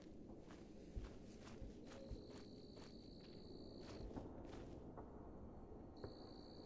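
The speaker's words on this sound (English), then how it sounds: "No wonder I was hearing the footsteps" Faint footsteps from a feral soldier in the video game Cataclysm: Dark Days Ahead fall at an irregular, unhurried pace. Soft thuds sit under a quiet hiss, and a few thin electronic tones chime between them.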